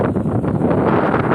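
Strong wind blows across the microphone outdoors on a weekend outing at a bird-watching spot, a loud continuous rumbling buffet with no voices.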